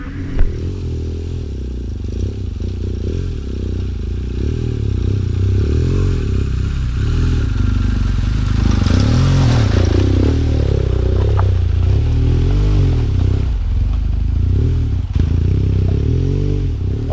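Light off-road motorcycle ridden across slippery ground, its engine droning steadily with revs rising and falling, accompanied by clattering and scraping from the terrain, close and continuous with no talking.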